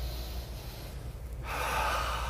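A strong nasal inhale during a breathing exercise, a close, loud rushing breath that builds steadily and surges louder toward the end, with no talking.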